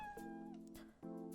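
A pet cat gives a short chirping meow and then a brief throaty trill, close and soft, with a quiet rustle between the two sounds.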